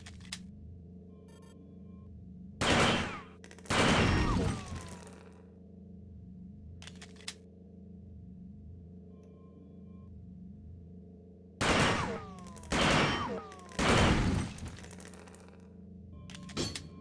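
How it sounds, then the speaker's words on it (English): Firearm shots at a dummy robot in System Shock 2, several loud, booming gunshots in two groups over a steady electronic ambient hum, close and heavy. "take a shot at the dummy robot by pressing the fire button when in shoot mode"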